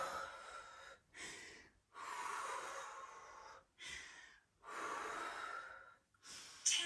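Heavy, rhythmic breaths during a bodyweight HIIT workout, long audible exhales and inhales alternating with short silent pauses, close and fairly quiet, with no talking.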